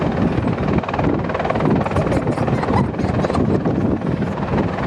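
An AgustaWestland AH-64 Mk1 Apache helicopter hovering at the Manston Airshow, a loud, steady rotor and turbine roar that fills the whole stretch without a break.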